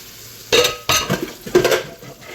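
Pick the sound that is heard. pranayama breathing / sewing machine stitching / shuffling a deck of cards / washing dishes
washing dishes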